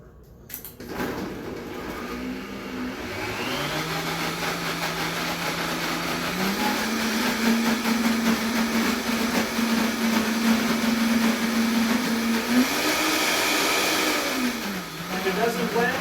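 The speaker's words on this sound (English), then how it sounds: "All you gotta do, blend it up." A blender whirs continuously, blending basil pesto with a whole bottle of olive oil, its motor pitch rising and shifting as the thick mixture loosens, loud and steady throughout.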